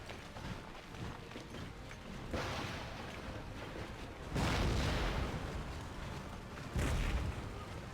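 Mortar and artillery shells land among troops in an Empire: Total War battle, producing deep rumbling booms and blasts, two heavier impacts standing out over a continuous roar of battlefield noise.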